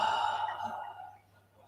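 One long breath pushed out through the mouth during a yoga breathing exercise, close and breathy, fading into quiet.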